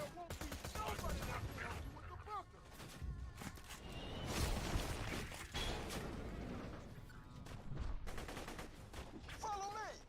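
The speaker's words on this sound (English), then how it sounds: "Beginning mortar bombardment." Mortar bombardment in a video game, with repeated booming impacts and gunfire bursts piling into a dense, loud barrage over ten seconds, while voices shout underneath.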